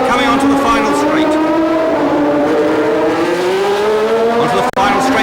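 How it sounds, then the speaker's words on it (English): A Ferrari Formula One car racing onto the final straight at the 1976 Long Beach street circuit, its high engine whine loud and sustained with shifting pitch, under a commentator's voice. "There's the Ferrari coming onto the final straight."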